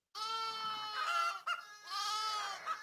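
Lambs bleat in two long, wavering cries, close and clear, with a chicken clucking faintly underneath.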